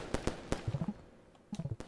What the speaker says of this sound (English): What, I need to throw a firecracker on it?